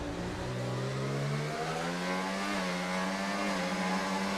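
Formula 1 cars in the F1 24 racing game accelerate hard on a restart after a green flag at the Saudi Arabia round, engines rising steadily in pitch through the gears, loud and continuous with no talk.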